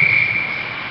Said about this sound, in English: Whistle's blown